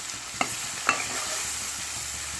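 Turmeric is stirred into onions frying for curry: a steady close sizzle with a few sharp scraping strokes of the spoon against the pan, no voices.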